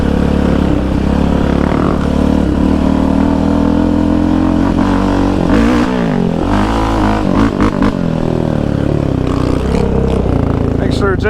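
A Yamaha Raptor 700 Stage 3 ATV engine roars loud and close as the quad bounces over bumps at Iron Mountain Park, with the revs rising and dropping under a rider's voice.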